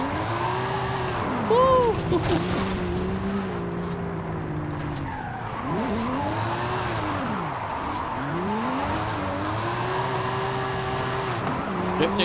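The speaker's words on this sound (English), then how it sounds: "So we're drifting around the house here." Tires squeal and skid continuously as an American muscle car drifts around a house in Forza Horizon 5, the engine note swooping up and down through repeated slides, with a brief excited shout from a player.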